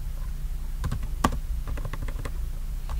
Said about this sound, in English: I can't type today.